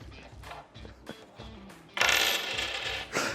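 A coin is handled and dropped at close range, with light clicks and taps followed by a louder, brighter rattling clatter partway through.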